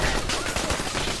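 Automated turrets in Fallout 4 fire continuously in an urban fight, a dense, loud rattle of rapid shots with no pause.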